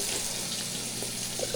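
Hot water pouring from a kitchen tap to flush a freshly unclogged drain, a steady, even hiss of running water throughout at moderate level.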